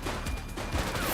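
Rapid gunfire in a police shootout in the video game The Precinct, dense overlapping shots in a loud, continuous burst.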